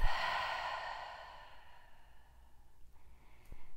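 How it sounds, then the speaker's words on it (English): A long breath exhaled through the mouth during a beginners' yoga class for teens, a soft airy sigh fading out gradually over a few seconds, followed by quieter breathing and a small knock. "Exhale through the mouth"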